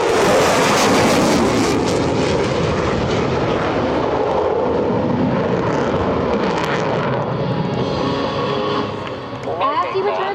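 An F-16C Fighting Falcon fighter jet roars overhead during an airshow demonstration at EAA AirVenture in Oshkosh, a loud, broad, sustained engine rumble that slowly shifts and eases near the end. A commentator's voice is heard over it.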